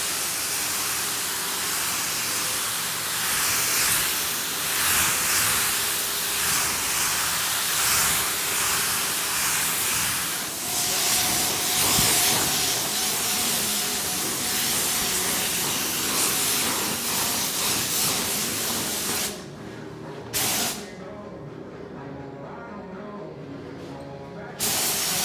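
Spray gun hissing steadily while painting Toyota Celica GT4 suspension and drivetrain parts, a continuous loud broadband spray with slight surges as the gun sweeps, cutting off briefly near the end.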